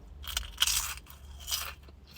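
Crisps are bitten and crunched up close in a few crisp, crackling bursts, with chewing between them and no talk.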